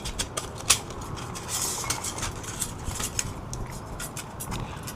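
Folding metal camping cook kit with a hinged design, its bottom plate set in place: light clinks and scrapes of thin metal, several sharp taps early, then softer rattling handling close by.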